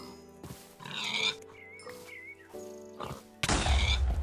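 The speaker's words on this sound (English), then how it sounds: "And there you go, we got our first exploding pig." Minecraft pig sounds in the modded GregTech: New Horizons pack, with oinks and grunts over game noise, ending in a loud burst as the pig explodes.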